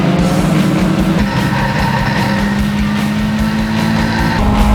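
Several race cars roar at full throttle down the main straight at Circuit of the Americas in an EXR Series race, a loud, dense, continuous engine drone with rising pitch.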